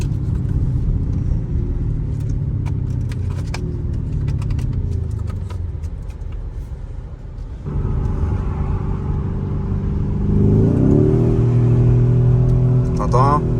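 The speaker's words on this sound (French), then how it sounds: "on voit bien la différence de bruit sur le moteur qui grogne" A Lamborghini Urus Mansory's engine growls and rises as it accelerates under paddle-shifted gears, a steady rumbling drone that climbs in pitch and swells louder toward the end, with people talking over it inside the cabin.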